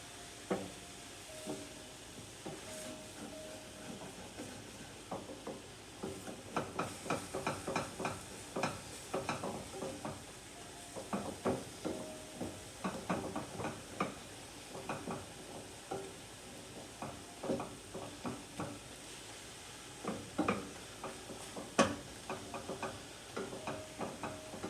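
Eggs and ham cooking in a frying pan for a breakfast dish, a steady close sizzle and hiss broken by frequent crackling pops and occasional scrapes, continuing quietly for a long stretch with no voices.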